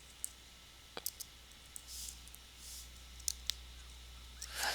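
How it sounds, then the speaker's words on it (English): An aging, poorly working computer gives off sparse sharp clicks over a steady low hum, with faint whooshing swells in between, quiet and close with no talking. "My computer doesn't work that well, so it's starting to make noise"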